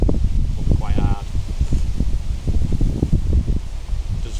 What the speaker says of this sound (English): this is a strong wind